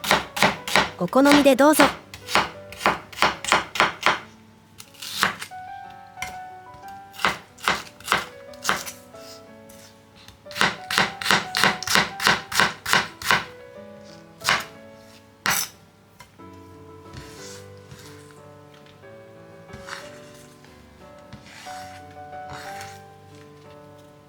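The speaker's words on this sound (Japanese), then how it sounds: "みょうがは薄く切っても食感を残すために厚めに切ってもどちらでも大丈夫です。" A knife slices myoga ginger on a cutting board in rapid crisp bursts of chopping, separated by pauses, with someone speaking briefly in Japanese.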